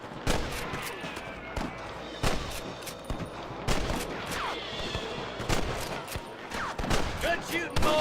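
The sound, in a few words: gunfire in a shootout with rustlers, from the video game Red Dead Redemption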